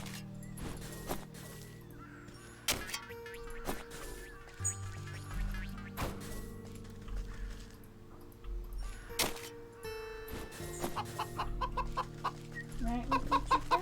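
Chickens cluck repeatedly on a farm in the video game Wytchwood, choppy bursts of clucking scattered over steady background music, some calls near and loud, others softer.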